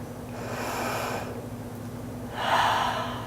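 A person draws a slow breath during a yoga flow, a soft airy inhale followed by a stronger exhale, close and alone over a faint steady background hum.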